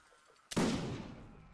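A single pistol shot fired in the Napoleonic-era battle game Mount & Blade: Napoleonic Wars, a sudden sharp crack with a booming tail that rings out for about a second, loud and close, with no talk over it.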